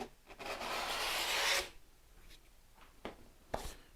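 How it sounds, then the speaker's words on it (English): A cloth rubs briskly over a cast-in-place concrete surface to wipe away liquid wash before sealing, a sustained raspy scrub lasting about a second and a half, then a few faint scuffs. "just give that a quick rub and it'll take it off"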